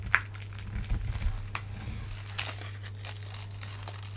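Paper being folded to form a second crease for a homemade chocolate-bar craft, with a sharp crinkle at the start and soft crackling and rustling close by, alone over a low steady hum.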